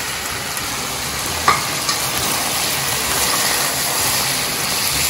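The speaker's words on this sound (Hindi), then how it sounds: "ये डालें, खूब अच्छी तरह से इसको भुनाई करें 2-3 मिनट।" Salt and spices, including cumin powder, white pepper and garam masala, fry in a pan for hari karahi over medium heat, giving a loud, dense, steady sizzle with a brief knock of stirring partway through.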